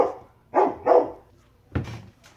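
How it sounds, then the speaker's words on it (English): Dogs barking indoors, three sharp barks in quick succession, a pause, then another bark trailing into a softer yip, fairly close and alone. "my dogs were barking and throwing a fit"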